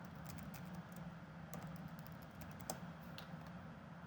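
A name is typed on a computer keyboard in quick, soft clicking patters, close and quiet, with a faint steady hum beneath and no talking.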